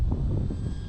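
An E-flite Valiant RC airplane passes low overhead, its motor a steady close drone with some wind rumble, heard alone for under a second.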